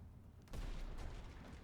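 A big explosion in the Pirate Nation card battle game goes off suddenly after a brief quiet, a loud booming burst with a rumbling tail that carries to the end.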